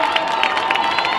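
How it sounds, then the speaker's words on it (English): A Boys' Latin crowd cheers and shouts at a high school boys' lacrosse game against St. Paul's School, a steady, loud roar of many voices filling the whole moment without a break. "they've got the boys Latin crowd behind them trying to make some noise"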